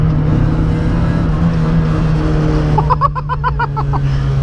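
A Citroën Saxo Rally 2.0 rally car engine roars loudly and steadily up close, a deep continuous growl that rises into a rapid stuttering pulse near the end.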